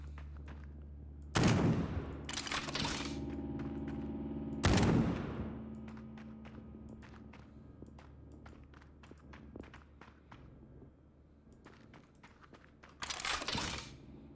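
Gunfire from the top-down action RPG Death Trash, with two bursts of shots early on and another near the end, backed by scattered smaller clicks and impacts over a steady low game hum.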